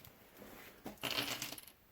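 Dice rolled for a G40 board game battle clatter and tumble in two quick bursts, a light rattle followed by a louder scatter of hard little cubes settling close by.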